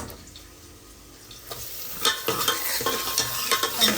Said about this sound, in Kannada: ನೋಡಿ ಚಟಾಪಟ ಚಟಾಪಟ ಅಂತಿದೆ.